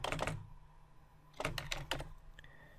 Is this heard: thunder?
no